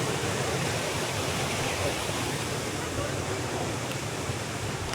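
Strong water rushing in a stream or waterfall, a broad, continuous hiss and roar that stays even throughout and drowns out other detail.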